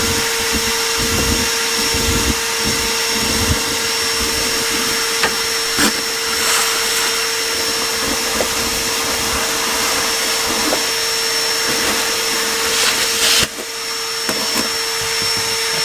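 A vacuum cleaner roars loud and steady at close range, sucking up a mouse nest inside an abandoned old Mopar car left sitting over 20 years, with brief rattling changes as debris is pulled through and a short dip near the end.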